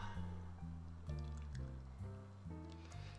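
Favorable Fortune Dry Irish Stout from Block 15 Brewing poured into a glass, a close gurgling, glugging fill that comes in several rhythmic surges, each a short bubbly burst of liquid.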